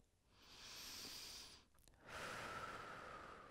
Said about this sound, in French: inspirez par le nez et soufflez par la bouche